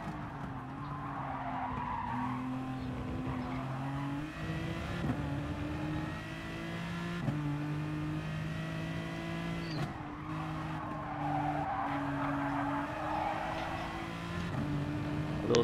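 Race car tires skid and squeal on the Monza circuit in a racing video game, a steady engine drone with rising and falling pitch running underneath, loud and continuous throughout with no talking.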